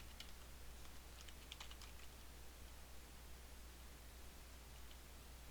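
Quiet, steady hiss of a computer keyboard being typed on, a small cluster of light key taps early on, then mostly faint noise with no talking.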